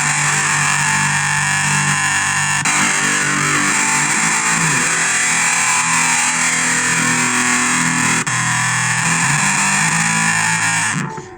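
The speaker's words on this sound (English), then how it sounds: "I think the metal drive is kind of overpowering that phaser a bit" Heavily distorted electric guitar runs through a Zoom 707-II multi-effects unit's metal drive and phaser, a dense, saturated wall of sustained chords played loud and continuous for about eleven seconds before cutting off.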